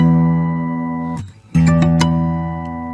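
A fingerstyle guitar chord sounds with the open low E string under ringing harmonics on the top three strings, sustained, then briefly muted and struck again, with a few sharp attacks before ringing out.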